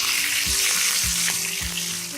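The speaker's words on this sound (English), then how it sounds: "once cumin seeds splutter, add the chopped green chilies as per your taste" Chopped green chilies go into hot oil with spluttering cumin seeds, producing a loud, dense sizzle and crackle that fills the whole moment, with a low thump of the pan underneath.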